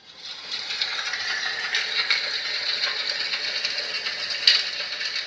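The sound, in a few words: yagna fire ritual sound played by talking Bhagavad Gita device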